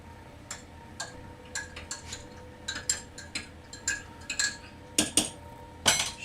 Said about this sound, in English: Stir it and drink.